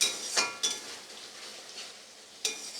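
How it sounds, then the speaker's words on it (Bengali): Masala spice paste stirred and fried in a pan for a Bengali tangra fish rosha, with a soft continuous sizzle and a few sharp spoon-on-pan scrapes and clinks, fairly faint and close. "খুব ভালো করে মশলাটাকে একটু সময় নিয়ে কষিয়ে নিতে হবে"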